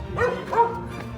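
A dog at a homestay in Darjeeling gives two short yipping barks about a third of a second apart, fairly close and loud over a steady background hum, with no talk.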